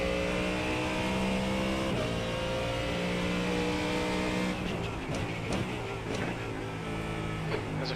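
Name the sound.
race car approaching in the video game iRacing GT3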